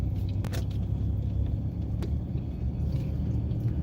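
A car drives slowly through a turn during a driving lesson, with a steady low engine and road rumble running close and even throughout, and no talking.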